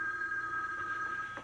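A telephone rings with a steady electronic tone, fairly clear and alone, in an indoor sitcom scene.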